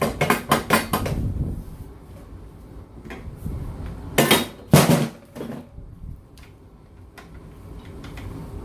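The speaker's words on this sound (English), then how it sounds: "I'm using a rubber mallet, so it's not damaging it at all." A rubber mallet taps on parts of a vintage 1971 Moto Guzzi Ambassador police motorcycle, giving close, sharp knocks. A quick cluster of hits comes at the start, then scattered blows, with a few louder strikes near the middle.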